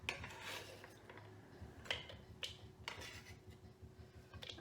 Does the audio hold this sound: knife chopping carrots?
yes